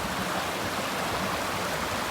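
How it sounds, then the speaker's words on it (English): A natural mountain stream on the John Muir Trail near Mather Pass rushes steadily, a close, even wash of flowing water with no break. "Really, this is a good sized stream right here."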